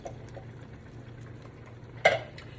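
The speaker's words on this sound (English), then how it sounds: "Now we have our kidney beans I'm going to add in." Kidney beans, partly drained of their liquid, go into a pot of minestrone soup. A quiet low simmer runs underneath, then one sharp clatter and splash comes near the end.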